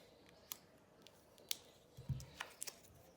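Scissors snip excess material during the assembly of a custom Fender Jazz Bass, giving a few sharp, quiet clicks with a duller cut near the middle, close and alone.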